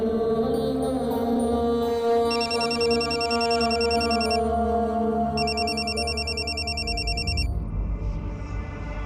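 A telephone bell rings in two long electronic bursts over a steady tonal music bed, then stops abruptly near the end.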